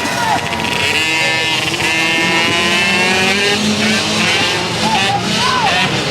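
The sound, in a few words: race cars blasting out of the gate at speedway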